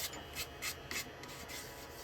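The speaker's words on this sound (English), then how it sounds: "I reckon now I can come in and sand this" Sandpaper rubs against a wood-turned piece spinning on a lathe, giving repeated short raspy strokes in an uneven rhythm, close and moderately loud.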